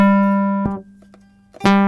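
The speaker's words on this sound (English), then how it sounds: "at the moment you're listening to a square wave" Square wave from a free iOS guitar synth app: a bright, buzzy sustained synth note rich in overtones, loud and alone, dipping to a quieter held tone midway before swelling back to full strength.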